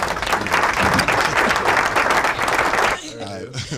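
Hands clap on a podcast, a loud run of rapid applause-like claps that continues for about three seconds and then stops abruptly, followed by a moment of quieter room sound with a voice.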